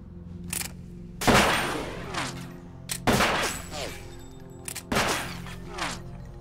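Three loud bursts of gunfire ring out in Metal Gear Solid 2, spaced about two seconds apart, with each volley trailing off into rattling echoes and ricochets.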